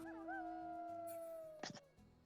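A dog mount in Final Fantasy XIV lets out a long, wavering howl that holds steady for over a second, followed by a brief clattering burst near the end.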